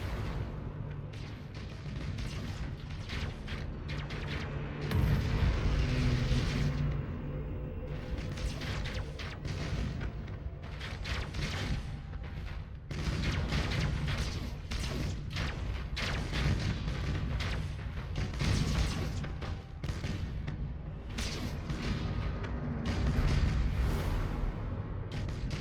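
Heavy ship cannons firing continuously in Battlefleet Gothic Armada, a dense, booming, mechanical barrage that rolls on steadily with surging bursts throughout.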